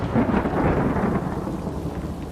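Rumbling thunder rolls through a stormy sky amid steady rain in Super Mario Odyssey, a dense, continuous low roar that stays loud throughout the short stretch, with no voices.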